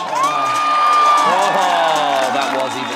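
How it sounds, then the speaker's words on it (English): A dense, loud fan crowd cheers and whoops at a wakeboard big air event, one high shout rising above the continuous roar. "I think that's Nicky's fan crowd there. Yeah, they're particularly excited right now."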